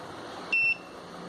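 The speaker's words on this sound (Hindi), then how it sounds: "जब भी इधर से व्हीकल पास होगा एक बजर बजेगा" A single short, high electronic beep from the buzzer of a model RFID toll plaza sounds as a vehicle passes, lasting about a quarter second over faint background hiss.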